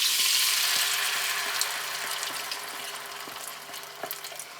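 Char siu lo mein stir-frying on a plug-in hob sizzles loudly at first and then eases, with light clicks and scrapes of utensils stirring through the steady frying hiss, close and without talk.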